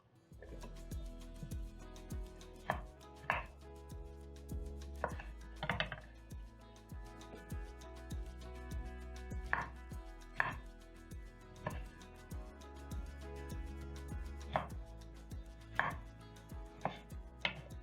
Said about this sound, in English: I'm going to pick my tomatoes and cut in half and into quarters